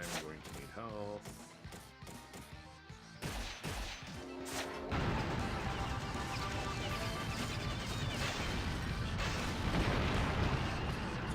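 Gunfire in the video game Ninja Gaiden Black, shot from overhead, dense and loud, with scattered bursts at first that swell into a continuous roar of fire and blasts, with someone talking over it.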